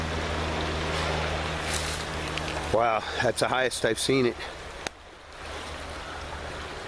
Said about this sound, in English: Well, this is the stream.